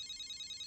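A phone rings in the anime Death Note, a steady high electronic ringtone pulsing in a quick even pattern, faint and brief with no voices.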